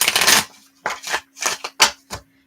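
A tarot card deck is shuffled in several quick, crisp riffling bursts close up, separated by short pauses, with no talking.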